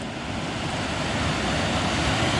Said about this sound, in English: Not a significant waterfall, but enough of an obstacle to make me go over land